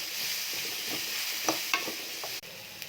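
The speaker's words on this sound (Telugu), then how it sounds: "బాగా మిక్స్ చేసుకోవాలి." Bread roast being mixed with salt, pepper powder, garam masala and chaat masala in a pan, with a soft steady sizzle and a few light scraping taps of the stirring spoon, no speech.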